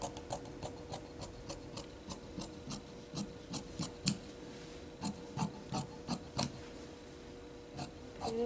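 Scissors cut through fabric for a V-neck color-block dress, a quiet, close run of short rasping snips repeating in an irregular rhythm.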